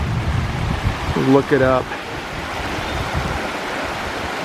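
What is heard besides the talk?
creek at headwaters of the Thornton River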